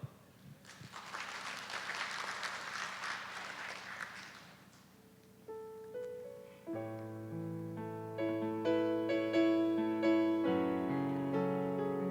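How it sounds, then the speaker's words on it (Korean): A church congregation gives a short burst of clapping for a few seconds, then it fades and sustained keyboard or organ notes begin to play alone. "박수"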